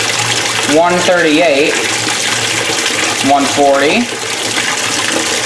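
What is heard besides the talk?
hot water running into Speed Queen washing machine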